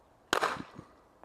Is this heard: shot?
yes